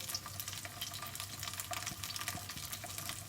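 Rice noodle cake frying in hot coconut oil in a small round mold, a steady faint crackling sizzle with no voices.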